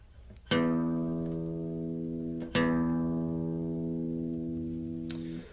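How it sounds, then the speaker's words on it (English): Two plucked notes on the open low E string of a guitar, each ringing out with rich harmonics and slowly decaying, the second struck about two seconds after the first. "So an open E, or the 0 fret on the low E string, just sounds like this."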